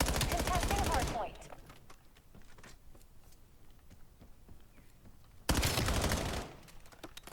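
Gunfire in the video game Black Ops 7, loud dense bursts of rapid automatic fire at the start and again near the end, with quieter scattered shots and game noise between.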